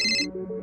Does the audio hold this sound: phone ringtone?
yes